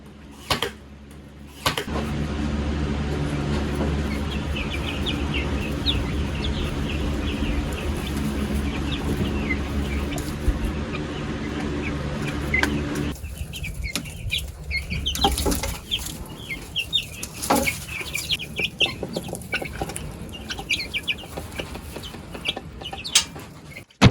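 Meat chickens cluck steadily inside a chicken hut, a continuous flock chatter with occasional flaps and shuffles, loud and close, thinning out in the second half.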